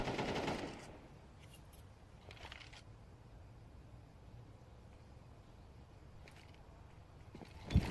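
M4 rifle spray in a competitive Counter-Strike match: a brief, loud automatic burst at the start fades into quiet in-game ambience, with a faint sharp click near the end.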